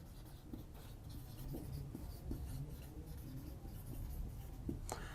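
Pen or chalk writing out the chemical formula for bleaching powder, a steady scratchy stroking with small clicks and taps, close and fairly quiet, with no talking.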